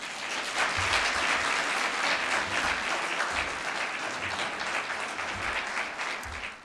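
Sustained applause from an audience at a University of Saskatchewan alumni awards ceremony, a steady wash of many hands clapping for an award recipient, loud and continuous throughout.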